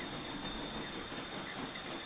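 Cargo train in Transport Fever 2 rolling steadily along the track, a continuous wheel-on-rail rumble with a faint high hiss, with no talk.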